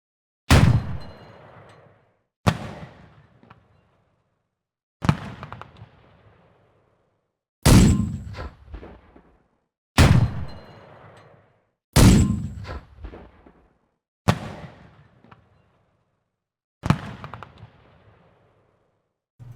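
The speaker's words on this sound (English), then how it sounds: "So let's check out the 20mm KWK30." Eight single shots from the 20mm KwK30 tank gun in War Thunder, each a sharp loud bang with a decaying echo, spaced evenly about two and a half seconds apart, with no other sounds.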